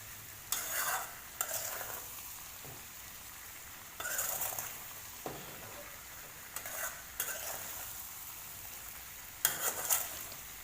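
Gooseberries fry in oil with masala and mustard powder while a spoon scrapes the pan in short, intermittent bursts, with a quiet, steady sizzle between the strokes.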